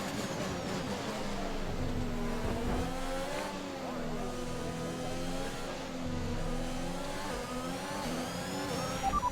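Formula 1 engines in the F1 2021 racing game at the Mexican GP, several cars wailing close together in a pack, pitch rising and falling through gear shifts, steady and loud throughout with brief voice traces.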